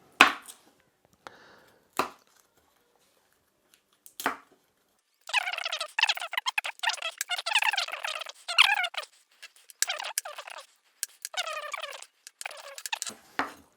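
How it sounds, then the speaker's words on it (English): Knife chopping peeled garlic cloves on a board, with a few isolated taps and then bursts of quick, close, crisp chops broken by short pauses. "the next step is to chop up the aromatics"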